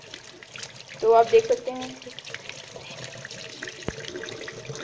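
Water is poured over a waterproof bridal makeup base during a water test, a soft continuous trickle running throughout while someone briefly speaks over it.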